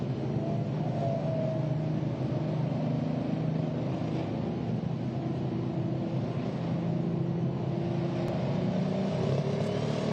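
A pro stock pulling tractor engine holds a steady, heavy mechanical roar at moderate distance, droning evenly without a clear rev peak or pause.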